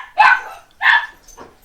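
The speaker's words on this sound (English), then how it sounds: "It's the dog." Tommy's dog Raven barks three times, two loud close barks followed by a fainter, shorter third, with short pauses between them and no other sound around them.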